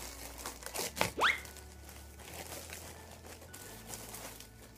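Plastic packaging of a Shopee parcel crinkles and tears open in a short, close burst of rustling, then fades to quiet handling.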